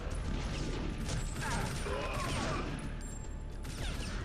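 Gunfire in the video game TimeSplitters: Future Perfect, set on a 1920s-style British row-house street level: dense, continuous battle noise with scattered shots and mechanical clatter, fairly loud throughout under a steady game soundscape.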